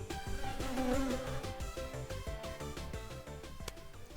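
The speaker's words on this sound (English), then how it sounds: "The wasp bolted straight for Silvie." Buzzing of a wasp in a visual novel game, a steady insect drone close and fairly loud throughout, set against rhythmic background music.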